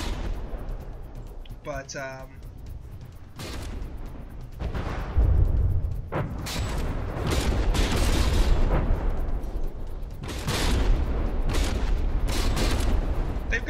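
Naval artillery guns firing during a From the Depths tournament battle between warships: repeated heavy booms and blasts over a constant rumble of battle noise, with a brief spoken word early on.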